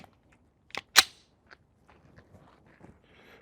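A single sharp gunshot crack rings out close by, preceded by a couple of small metallic clicks from handling the gun while a Sightmark Ultra Shot M-Spec reflex sight is in use, followed by faint rustling and mechanical sounds.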